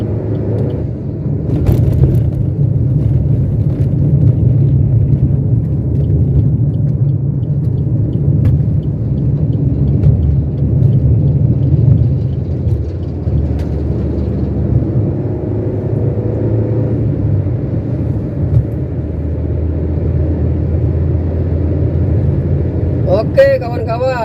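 A car driving on a road in South Sumatra gives a steady low engine rumble and road noise from inside the cabin, running continuously with a slight change partway through and a faint click near the end.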